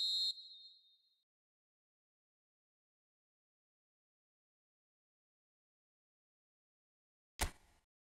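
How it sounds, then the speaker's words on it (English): A referee's whistle in the eFootball video game blows once briefly at half-time, sharp and high, then fades; after a long silence a single loud thump follows. "And the whistle goes for half-time."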